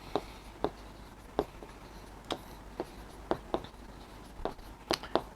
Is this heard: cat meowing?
no